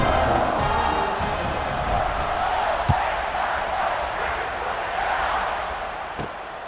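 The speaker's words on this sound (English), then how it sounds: "They're set to kick it off, and this crowd now ready to get behind them." Stadium crowd at a college football game, Ohio State hosting FCS Southeast, roaring in a steady wide wash before a kickoff, with a few sharp thumps standing out against the continuous noise.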